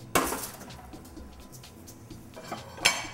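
Pots and pans clatter as baked Wellingtons are pulled from an oven, with a sharp clank at the start, softer knocks and rattles in between, and another bright clink near the end.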